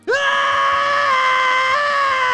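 A single loud, sustained scream from a character running in The Legend of Zelda: Tears of the Kingdom, rising sharply then holding a steady high pitch for about two seconds, close and alone.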